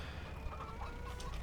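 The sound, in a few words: chickens clucking in a farming game coop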